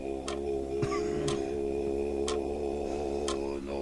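A clock ticks steadily and close by, four sharp clicks spaced about a second apart over a constant humming background.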